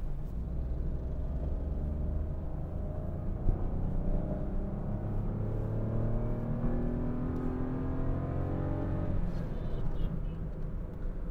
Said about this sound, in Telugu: హార్డ్ పెడల్ వేసినప్పుడు ఆటోమేటిక్ గేర్ అనేది డ్రాప్ అయ్యి పికప్ అనేది తీసుకుంటుంది